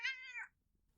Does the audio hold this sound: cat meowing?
yes